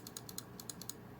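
Sharp, quiet clicks from a Logitech G502 SE mouse button after a switch replacement, about eight crisp taps in quick, slightly uneven succession, close up with no talking.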